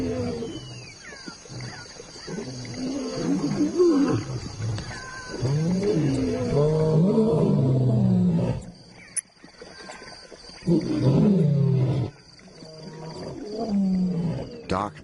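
Male lion roaring in darkness near a waterhole, a series of deep, loud, close roars in bursts separated by brief pauses, with night insects faintly in the background.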